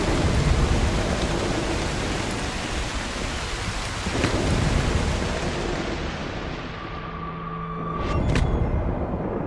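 Thunderstorm in the game Broken Pieces, set in France: loud, continuous rain roars throughout, with thunder rumbles swelling around four and eight seconds and a crackling strike near the end.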